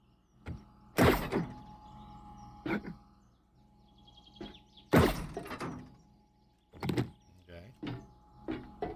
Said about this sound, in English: Now when I step on these, they're both firing.